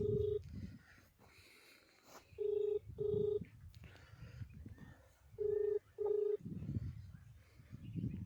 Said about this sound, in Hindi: BRO यानी कि 114 RCC ग्रिफ के ओसी सर को फ़ोन लगाने का मैं प्रयास कर रहा हूं